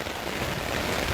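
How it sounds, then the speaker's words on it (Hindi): Heavy rain pouring down in a thunderstorm, a dense, steady, loud roar of falling water with no break and no voices. "ये देखें कितनी तेज़ बारिश है"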